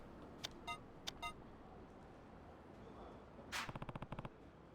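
Mystery cell phone noises in Yakuza 3: faint electronic beeps and chirps in short clusters, first two quick pairs, then a closing burst of rapid pulses.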